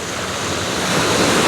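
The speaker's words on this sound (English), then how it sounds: "Wind's starting to pick up" Steady wind roars across a winter beach at Hamble, a broad continuous rush that swells slightly louder toward the end, with no voices.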